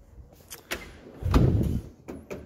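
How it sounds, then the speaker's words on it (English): Heavy roller drawer of an Epiq tool chest rolling shut on its rails under its own weight, a smooth rumbling slide ending in a firm close, with a few lighter clicks around it. "if you leave your drawer open, it should basically, you know, when the weight's in it, it should pull itself closed"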